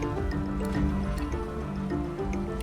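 A water attack spell in the video game Divinity: Original Sin lands as a wet, dripping, sloshing splash, with steady liquid trickling and squishing under a low rumbling game background.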